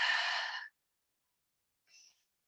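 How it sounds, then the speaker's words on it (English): Deep breath drawn fully through the sides of the ribs during a yoga flow: one long, soft airy exhale close to the mic, then a brief faint follow-up breath after a pause. "Breathing fully through the sides of the ribs."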